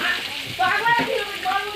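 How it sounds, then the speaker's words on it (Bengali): Ghugni with onion, ginger and garlic frying in a pan, a steady close sizzle with brief stirring scrapes underneath, lasting a couple of seconds. "ঘুগনিটা এখন পাকাবো, কষবো, ভালো করে কষতে হবে।"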